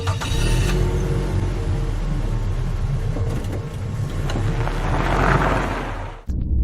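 A fictional spaceship's discus drive engages with a loud, sustained low engine rumble and whine that swells and holds for several seconds before cutting off abruptly.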